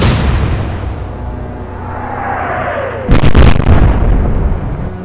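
A naval gun salvo in the Atlantic Fleet warship game lands as a cluster of heavy booming blasts about midway, over a steady rumbling background and a falling whistle.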